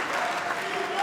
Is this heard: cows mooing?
no